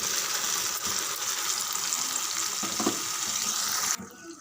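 Spices splutter and crackle in hot oil for a tomato pickle, a dense, steady frying hiss with a few sharper pops before it abruptly drops away near the end.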